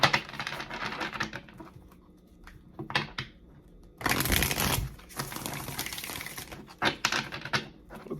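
Tarot cards being taken out and handled, heard as dry papery shuffles, taps and rustles in bursts, close and moderately loud, with brief quiet gaps between handling.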